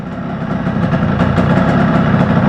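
A 1997 Yamaha RXG motorcycle idles just under 2000 rpm, a loud, close, steady rumbling engine with an even throb that builds slightly and holds, with no voices.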